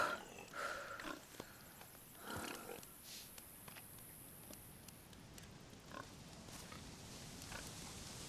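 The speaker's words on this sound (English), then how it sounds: "This is the wild boar. It's got a very distinctive sound." A wild boar in the game DayZ gives a series of quiet, irregular grunts and snorts over a faint background hiss.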